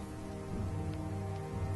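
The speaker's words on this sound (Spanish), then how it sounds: "resonaban los truenos y la lluvia comenzó a caer como una cortina de agua" Steady rain hisses over a storm, with a low rumbling bed of thunder-like tones underneath. Continuous and even throughout, with no voices.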